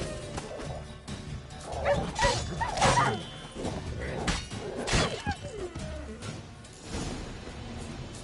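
A pack of stray dogs in The Witcher 3 barking and yelping in several close, loud bursts, mixed with whimpers and scuffling combat hits.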